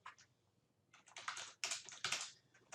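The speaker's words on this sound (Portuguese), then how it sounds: "deixa eu digitar" Fingers type on a computer keyboard in a quiet room, short clusters of light clicking keystrokes coming in irregular bursts, faint and close.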